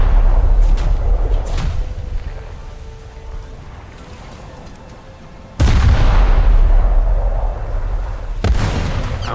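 Naval guns fire on a Gearing destroyer in a warship game. Heavy booms and sharp cracks land in bursts over a constant engine and sea rumble, with one loud blast midway.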